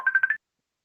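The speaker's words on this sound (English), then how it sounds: "We had a bit of a phone call there" Short electronic telephone tones from a phone call, about four quick beeps in a row lasting under half a second, clear and close, then silence.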